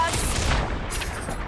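Rocket fire in the Marvel's Guardians of the Galaxy video game: a dense, continuous barrage of booming blasts and crackling explosions, loud and close, with a thinning burst partway through.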